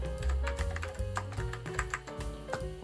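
Someone types steadily on an Apple keyboard with Alps mechanical keys, producing a quiet run of clicky taps over a steady tonal hum in the background.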